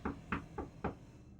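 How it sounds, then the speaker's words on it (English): Four distinct knocks on wood in quick succession, fairly close and moderately loud, evenly spaced at first with a slightly longer gap before the last, then a short decaying tail with no voices. "Knock down wood."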